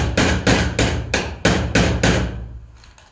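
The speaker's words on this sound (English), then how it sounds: "So if you just put them in a little bit and then you start nailing" Nails are driven into wood for a DIY toolbox with about nine sharp, loud, close hammer blows in a steady rhythm, each ringing briefly before the next, then fainter taps at the end.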